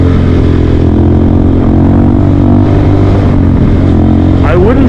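A Honda Grom motorcycle engine revs hard and steady during a wheelie, a loud, close, continuous drone that holds for several seconds.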